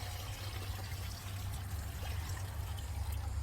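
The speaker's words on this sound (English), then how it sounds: "I'm gonna get some water, and I'm just gonna put just over top of the fish" Water pours steadily over fish in a 5-gallon bucket, making a continuous close-up gush and trickle with a low rumble underneath, and no voices.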